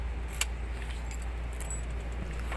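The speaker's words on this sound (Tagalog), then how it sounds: "Tanggalin na natin itong susi." Car keys jangle softly as the key is pulled from the ignition, a few light metallic clinks over a steady low hum inside the vehicle.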